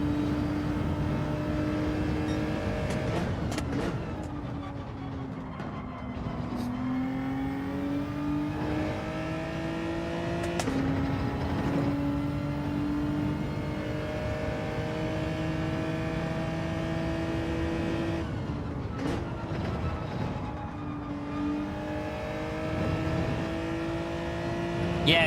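Gran Turismo 7 car accelerating hard in 4th gear, a loud continuous engine drone with rising harmonic pitch sweeps broken by brief gear-change dips, sustained throughout.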